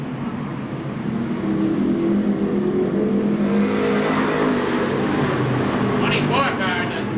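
Stock race cars at Seekonk Speedway in 1995 roar together as a dense, steady engine drone that swells as the pack accelerates on the green, with a commentator talking over it.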